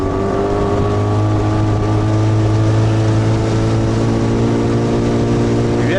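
A boat's outboard motor drones steadily and loudly up close on a river during a fishing trip, a constant engine hum holding level throughout with no voices.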